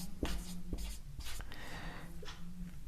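Chalk or marker scratching across a board in a maths lecture, several short quick strokes and taps in an irregular rhythm, close and fairly faint, with no talking over them.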